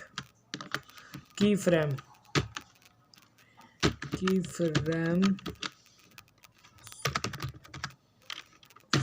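Keys clatter in quick irregular bursts as CSS code is typed on a computer keyboard, with someone speaking Hindi over the clicking and short gaps between the typing runs.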